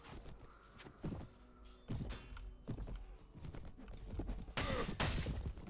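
Gunfire and combat in a Mount and Blade: Warband castle siege: repeated dull thuds and impacts with irregular shot-like bursts over a continuous battle din, moderately loud, no talk.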